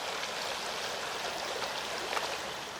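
River water rushes over rocks in a cold New Zealand river, a steady, close, full-bodied flow with a continuous hiss and gurgle, no voices.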